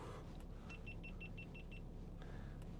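Steady low rumble of a 2015 Range Rover Sport 3.0 SD V6 HSE Dynamic automatic rolling downhill under cruise control, with a short run of even, high electronic chimes in the middle over the constant cabin drone.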